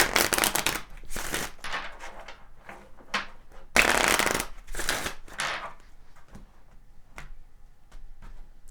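A deck of tarot cards is shuffled in several crisp riffling bursts, with a few cards slipping out and tapping down between them, close and loud with no speech.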